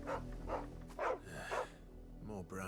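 Brown-and-white dog barking and whining nearby, several short voiced barks and yelps in an uneven rhythm, with people talking over it.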